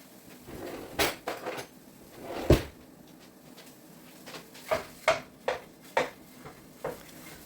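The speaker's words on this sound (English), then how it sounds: "now I am going to chop up the sausages" A knife chops sausages on a cutting board as soup is made, with about ten sharp, close knocks in an irregular rhythm, some in quick clusters and some spaced apart over a quiet background.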